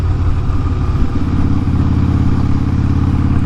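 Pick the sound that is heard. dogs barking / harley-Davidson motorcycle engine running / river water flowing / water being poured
harley-Davidson motorcycle engine running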